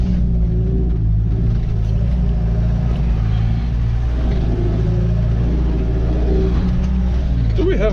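A snow plough truck driving through fresh snowfall and over snow piles, a loud, steady engine rumble and drone from inside the cab with muffled crunching, with people talking.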